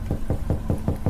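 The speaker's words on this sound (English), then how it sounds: "there was a knock on the front door" Knocking on a front door at night, six evenly spaced dull thuds in quick succession, close and solid, with no voices.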